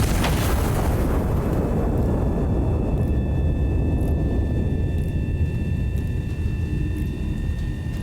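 An artillery gun in the game Iron Nest fires with a heavy boom. The shell's blast then rumbles loud and long, fading slowly, with faint high ringing tones.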